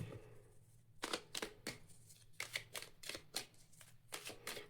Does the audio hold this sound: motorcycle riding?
no